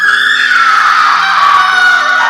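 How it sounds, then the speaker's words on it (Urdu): A single loud, sustained, high-pitched scream rings out for a couple of seconds in a horror story set in a dark, haunted quarter. "تبھی ایک چیخ سنائی دی"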